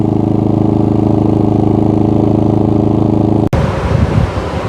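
A Pulsar GD400BN portable generator runs under an air conditioner load, a loud steady droning engine hum with an even pulse that changes abruptly into a rougher, shifting tone near the end.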